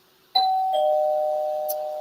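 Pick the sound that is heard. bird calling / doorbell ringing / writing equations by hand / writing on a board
doorbell ringing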